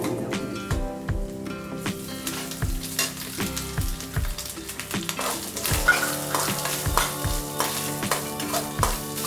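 Grated coconut roasting in a hot pan with curry leaves and popping mustard seeds for a papaya erissery: a continuous frying crackle broken by regular, close scraping strokes of a spoon stirring.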